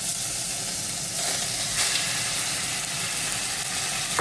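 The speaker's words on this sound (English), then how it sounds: "Now adding in our beef." Beef sizzling and hissing steadily as it is added to a pot while making jerk Philly cheese steak, a continuous loud fry with a brief flare of steam partway through.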